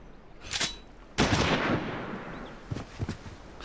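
Gunfire in the game Final Fantasy XIV: a sharp shot, then a heavy blast with a long rumbling tail, followed by a few more bursts of shots, loud and close with no talking.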